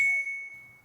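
A short bright phone text message chime rings once, a clear ringing tone that fades quickly, alone and close.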